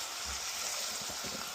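Tomatoes and chili sizzle and fry steadily in hot oil, a continuous close hiss with faint stirring underneath.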